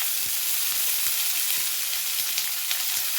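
Finely chopped onion sizzles steadily in hot oil in a pan, a continuous close crackle with faint stirring ticks and no talk.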